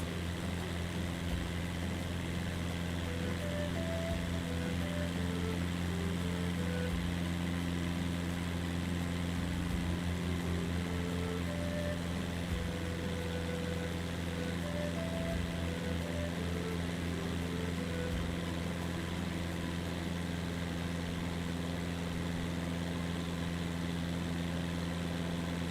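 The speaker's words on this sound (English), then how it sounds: "Get my engine out of the red so it's not red flashing." Cessna Skyhawk piston engine running steadily in a flight simulator during a flight over the Amazon rivers, a continuous droning hum with low periodic thumps and faint melodic tones throughout.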